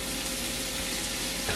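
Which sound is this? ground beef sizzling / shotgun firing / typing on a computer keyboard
ground beef sizzling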